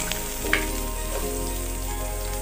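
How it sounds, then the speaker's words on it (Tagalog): Garlic and onion dropped into hot rendered pork fat give a sudden rise to a steady, close sizzle with a faint hiss of oil, and no one speaks. "So, sabay-sabay na nating ilagay ang garlic at onion."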